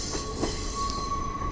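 A train running along the Ella railway route in Sri Lanka gives a steady, close rumble of rolling carriages with a thin metallic squeal from the wheels drawn out through the second half, with no voices.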